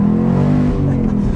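Ford Mustang on new Continental ExtremeContact DWS06 Plus tires accelerating hard, a loud, close, droning engine note with steady harmonics that rise in pitch as it revs.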